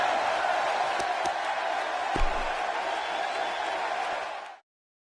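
Live arena crowd in the WWE 2K17 wrestling video game, a loud continuous roar of cheering that holds steady with a thump near the middle, then cuts off abruptly at the end.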